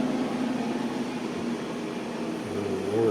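A CO2 laser engraver working on acrylic runs with a steady low mechanical hum and fan-like whir, joined near the end by a rising tonal whine from the machine.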